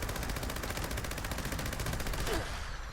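Rapid, continuous Gauss minigun fire from Fallout 76, an instigating crippling variant, rattles without a break as a loud, dense burst that cuts off near the end.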